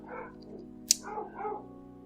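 A dog gives a few short yips and barks, moderately close, spaced over a couple of seconds against a quiet background.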